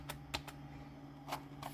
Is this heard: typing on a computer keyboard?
yes